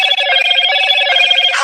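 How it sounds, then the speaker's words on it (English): A Motorola 'Hello Moto' flip phone ringtone plays loud and clear as a bright, melodic electronic jingle, alone without talking. "That shit sound like a flip phone."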